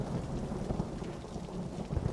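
Steady rain and a low, continuous thunder rumble fill a stormy Tomb Raider Definitive Edition scene, an even wash of noise with no voices.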